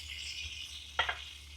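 Mahi-mahi fish and fries frying in hot oil, a steady low sizzle with a brief louder crackle near the middle, close and alone.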